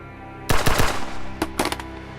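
Gunfire in a film noir standoff: a sudden loud burst of several rapid shots, a pause, then two more quick volleys, close and sharp with no talking.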